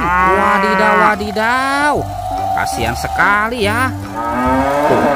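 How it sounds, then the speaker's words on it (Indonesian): A toy cow gives repeated, drawn-out electronic moos, loud and close, while a voice talks over and between them; a toy crocodile is shown eating the cow. "Wih, yang ini sapi mo."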